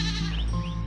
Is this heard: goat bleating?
yes